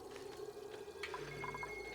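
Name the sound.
water falling and draining in Oxygen Not Included video game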